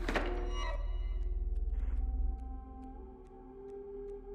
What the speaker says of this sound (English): What is with that sound every time I play a flying ant? It goes, Pshoo!